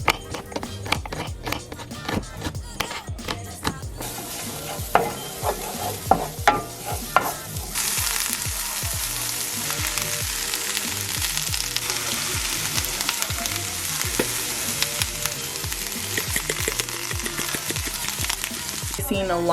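Vegetables fry in vegan butter in a pan, first with scattered clacks and stirring knocks, then a loud, constant close sizzle that continues to the end, with no talking.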